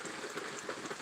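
Heavy storm rain pours steadily onto surfaces, a dense, loud, continuous hiss with no voices.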